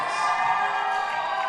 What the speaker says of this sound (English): Warren Chen comes back into the game, and you can hear the crowd calling for him.